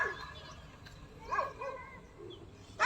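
Dogs bark and yip at a distance in a couple of short bursts over a quiet background, faint at first with one louder yelp near the end.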